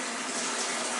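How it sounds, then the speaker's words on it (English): Cold water rushing in through the rusted hull of the Fletcher-class destroyer USS The Sullivans, a steady close hiss of flowing water with no pauses and no voices. "We got the cold water coming through"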